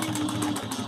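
A sewing machine back stitches through webbing on a bag pattern, a rapid, even run of mechanical stitching clicks up close.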